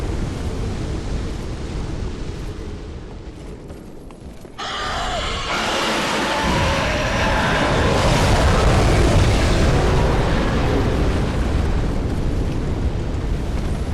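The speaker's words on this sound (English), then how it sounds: "probably just show how you can use the dragon's fire against them" Dragon fire breath in Dark Souls III, a deep roaring rush that swells from about four and a half seconds into a loud, sustained broadband blast filling the rest of the span, with no talk.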